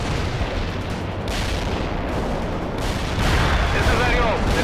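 Artillery strike in the PC strategy game World in Conflict: dense, continuous rumbling barrage of blasts and booms, loud and sustained, swelling slightly near the end, with no distinct gaps between impacts.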